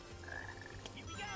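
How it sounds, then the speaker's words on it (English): Black frogs in the Sonic Heroes video game give a short, low croak that rises and falls, faint under a steady electronic background. "go out of your way and search for these damn black frogs"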